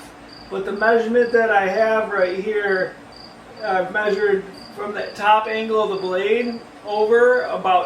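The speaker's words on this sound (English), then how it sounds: "If you can hear that cricket in the background" A cricket chirps steadily in the background, a thin, continuous high pulsing, while someone talks over it during woodworking on a hexagon fish tank stand.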